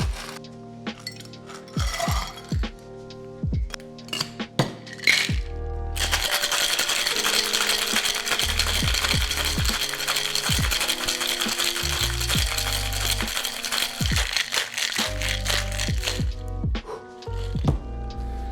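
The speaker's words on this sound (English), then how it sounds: "Next, we're going to add ice and give this a shake for about 8 to 10 seconds" Ice rattles hard inside a cocktail shaker for a Matador cocktail sweetened with agave, a steady loud clattering that runs for about ten seconds over soft background music.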